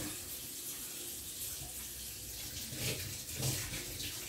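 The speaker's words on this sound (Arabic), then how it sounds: "نحط قلت لكم 200 مليلتر تاع الماء الدافي 200." Warm water, 200 millilitres, poured into a bowl for Turkish pizza dough, a steady splashing stream that runs evenly and fairly close, with a couple of slightly louder surges toward the end and no voices.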